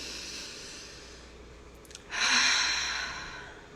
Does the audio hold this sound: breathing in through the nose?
yes